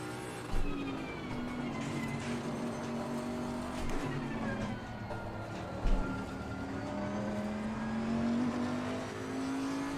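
A Bentley GT3 race car in Assetto Corsa Competizione drones along with a steady engine tone that rises and falls through gear changes, loud and continuous, with a couple of brief thumps and no talking.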